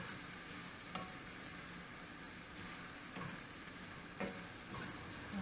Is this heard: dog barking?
no